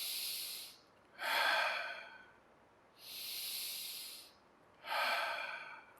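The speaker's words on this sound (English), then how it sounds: "We'll breathe 3 times here." Slow, deep breaths during a children's chair yoga session, with three long inhale and exhale cycles following one another in a steady rhythm, close and fairly soft, with no talking.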